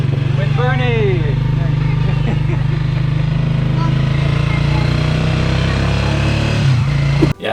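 A motorcycle trike taxi rides toward Nacpan Beach, its small engine droning loud and continuous beneath close-up talking, ending with a sharp knock.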